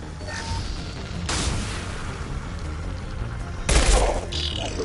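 Heavy gunfire in the Mass Effect Legendary Edition game: dense, overlapping bursts of weapon fire and booming impacts, with two sharper, louder volleys standing out against a constant crackling battle din.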